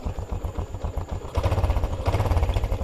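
A motorcycle, started through an Arduino RFID and voice-command setup, runs at a close, loud, pulsing idle, with a couple of surges in intensity partway through.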